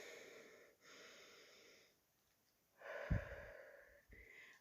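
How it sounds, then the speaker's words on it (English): A person takes slow breaths during a guided EFT tapping session, soft airy inhales and exhales that are faint and close, with short pauses and no talking. "Take a breath."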